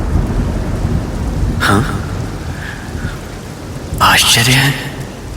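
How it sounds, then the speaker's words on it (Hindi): Deep thunder rumbles across a night sky in two swelling bursts amid steady rain, with a voice speaking over the storm. "रात्रि में ये बादलों की गड़गड़ाहट, लगता है जैसे भयंकर वर्षा होने वाली है।"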